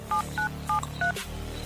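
Telephone keypad tones sound as a call is placed to a room dealer, four evenly spaced beeps over a low steady hum, ending in a soft click.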